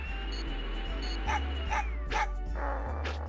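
A dog in the video game Mega Man Legends, several short yips and barks with whimpering over a constant low game hum, fairly close and clear.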